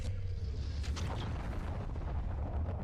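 An anime explosion from Blame! rumbles as a deep, sustained roar with a brief brighter burst near the start, loud and dense with no talking.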